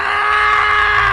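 A horrible, sustained shriek from an attacker rushing forward in an animated horror story, loud and unbroken for the whole moment with a steady piercing pitch and no other sounds.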